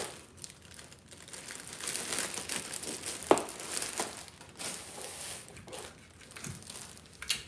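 Tape being pulled and pressed onto a gift basket, with soft crinkling of cellophane wrap and a brief sharp tearing snap midway, fairly quiet and close.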